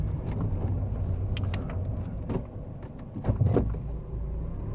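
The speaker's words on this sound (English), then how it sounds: "just as I pull up the driveway, is just to make sure that it does go into reverse as well" A Ford Fiesta Mk6 with stiff gears rumbles slowly up a driveway, its low engine note steady and close, with a few soft mechanical clicks and clunks as it shifts into reverse.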